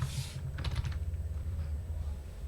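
Fingers tap a computer keyboard in a quick, even run of soft clicks lasting a couple of seconds, close and alone over a low background hum.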